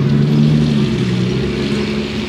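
A naturally aspirated V12 Ferrari sports car on a Monaco street, its engine droning loud and close with a steady deep growl.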